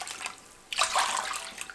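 Water poured into a kadhai holding sugar to make syrup for gulab jamun, a sudden splashing gush that swells then settles into a steady, close trickle after a quieter start.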